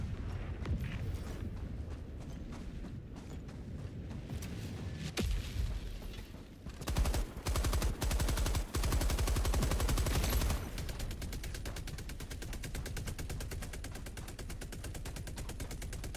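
Sentry turret in Helldivers 2 firing long sustained machine-gun bursts, dense rapid rattling with heavy low booms, loud and continuous over a rumbling battle background.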